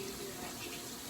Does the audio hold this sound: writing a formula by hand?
no